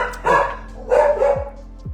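A dog barks two or three times in quick, close yaps with short gaps, clear over a quiet background.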